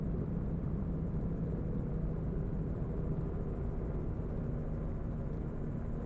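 Inside a gyroplane landing, the engine and rotor produce a loud, steady, dense droning roar with constant buzzing that stays unchanged throughout, with no voices.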